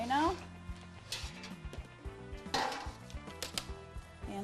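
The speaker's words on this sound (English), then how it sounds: "And the green onion, we just want to chop." Green onion being chopped on a cutting board in a kitchen, several quick knife taps and clacks at close range, with dishes knocking and a voice talking over it.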